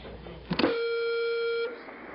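A single electronic telephone tone rings out on a radio call-in line, a steady held beep lasting about a second after a brief click, fairly loud and alone with no talk over it.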